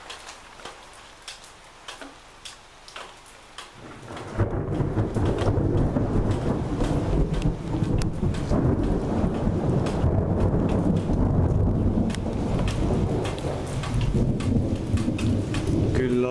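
A thunderstorm with heavy rain in Jõgeva: light patter at first, then a sudden loud downpour that roars steadily, with thunder rumbling through the rain, close and continuous.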